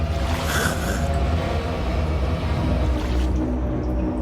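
Water splashes and churns steadily as someone wades into a flooded chamber at the tomb of Osiris inside the pyramids, a continuous close wash of sloshing with no talking.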